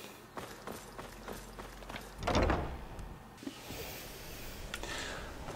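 A door swings open in the video game Skyrim, a single solid thud and creak in mid-clip, followed by footsteps and a low ambient hum.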